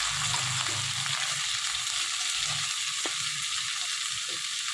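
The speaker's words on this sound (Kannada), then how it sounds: "ಈಗ ಟೊಮೊಟೊ ಹಾಕ್ತಾ ಇದ್ದೀನಿ ನೋಡಿ ಸರ್" Tomato added to a pan of golden-browned frying ingredients for a green banana gravy, sizzling steadily with hissing oil and soft stirring clatter throughout.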